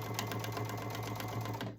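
A sewing machine stitches through a Dolly Parton-pattern dish drying mat being sewn into a basket, giving a steady, close, continuous mechanical whir with a fast needle rhythm and no pauses.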